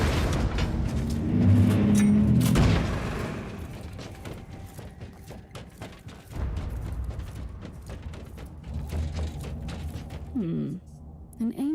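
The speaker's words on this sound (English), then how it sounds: "Open the door." A heavy mechanical door in the Warhammer Inquisitor video game grinds and booms open in a loud surge lasting a few seconds, followed by lingering creaking mechanism rumbles and clanks that swell again before fading.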